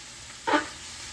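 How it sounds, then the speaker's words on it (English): Squash frying in a pan while being stirred: a steady low sizzle with one brief louder scrape-and-hiss burst midway through. "You just keep stirring it."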